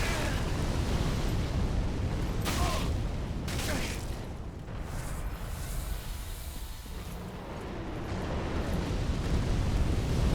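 Fire attacks in Dark Souls 3 roar in dense, loud blasts and crackling bursts that ease off mid-way and then build again, close and continuous.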